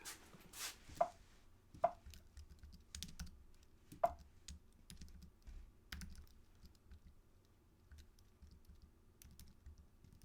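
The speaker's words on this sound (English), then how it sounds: "let me type." Someone types on a computer keyboard with quiet, irregular key clicks, a few sharper taps standing out, close and soft with no talking.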